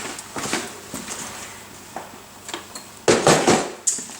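A rolling tool case for polymer clay craft has its tray lifted, giving a series of close, light plastic clacks and rattles, with sharper knocks near the end.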